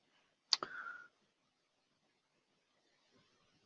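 A single sharp click of a computer mouse opening a performance evaluation tool in CAD software for a large assembly, followed by a brief soft tone, then near silence.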